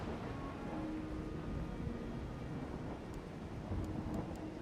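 Thunderstorm at sea in the strategy game Total War: Warhammer 2, a steady low rumbling roar of wind and rain, faint and continuous with no voices.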